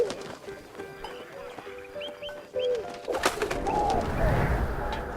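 Pigeon in the video game 11-11 Memories Retold, a few soft coos and flutters, followed by a louder rustling, shuffling background, with no talk.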